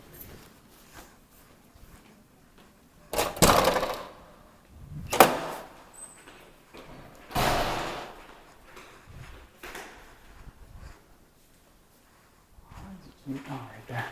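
A door opens and closes as someone walks out, giving a few loud, separate thumps and clunks amid scattered shuffling and background voices.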